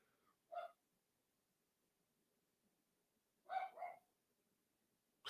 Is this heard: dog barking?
yes